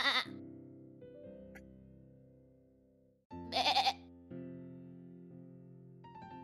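A streamer imitates a goat's bleat with two wavering, nasal vocal bleats separated by a pause, loud and close over steady background music tones.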